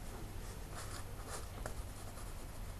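Handwriting on paper, a soft continuous scratching of the writing tool with faint strokes and taps over a low room hum, close and quiet with no talking.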